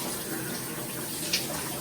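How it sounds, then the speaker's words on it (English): Shower water running, a steady broadband hiss of spray close by, continuous and even throughout with no talking. "Taking a shower."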